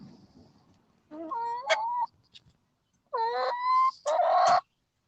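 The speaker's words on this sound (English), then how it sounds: "They're barred Plymouth Rocks. They're good-looking chooks." Barred Plymouth Rock chickens cluck and squawk close by in several loud bursts separated by silent pauses, with a faint background murmur at the start.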